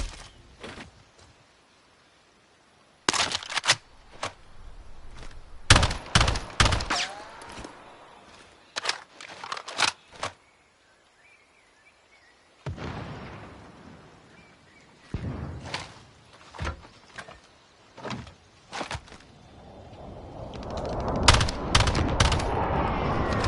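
Tactical rifle gunfire in Call of Duty: Warzone, rapid bursts of loud shots in clusters separated by quiet gaps, with heavier sustained firing and noise toward the end.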